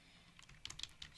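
Keys clacking on a computer keyboard while an HTML file name and alt text are entered, a quiet burst of several quick irregular taps, close and alone.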